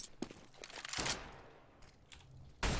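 Rifle fire from an AK in Counter-Strike: Global Offensive, a few sharp shots spaced through a short burst of game noise, with a loud close shot at the end.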